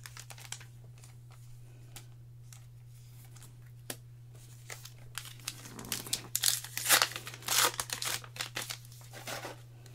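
Flesh and Blood trading card packs being torn open and handled: bursts of foil crinkling and tearing, with soft shuffling between, close and fairly quiet, loudest in a cluster toward the end.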